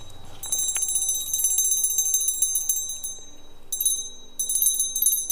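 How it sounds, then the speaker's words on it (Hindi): A newly bought metal bell meant for the neck of a cow named Chandraghanta, rung in repeated bright bursts of ringing with brief pauses between them, close and clear over quiet surroundings. "तो मैंने कल आते ही सबसे पहले एक घंटी ली है दोस्तों चंद्रघंटा के लिए"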